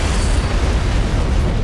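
Aboard a ship in the video game Halo, an antimatter charge explosion gives a sustained, loud, dense rumbling roar with heavy low-end boom and no break.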